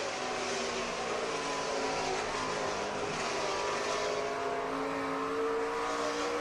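Stock cars in the 2007 NASCAR Subway Fresh Fit 500 roar past in a steady, dense engine drone, the Chevrolets of Jimmie Johnson's 48 and Kevin Harvick's 29 battling for the lead amid constant broadband race noise.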